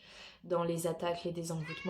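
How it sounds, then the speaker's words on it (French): A pet cat meows repeatedly, close by and clearly, its calls overlapping someone speaking French indoors. "excusez-moi pour mon chat qui aussi participe beaucoup"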